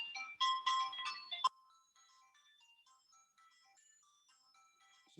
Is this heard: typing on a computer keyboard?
no